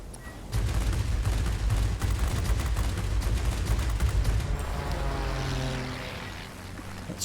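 In World of Warplanes, the Fw 190 A-8/R2's guns fire in a long, rapid continuous burst over a droning propeller engine, loud and close, then the firing stops and the engine hum carries on alone.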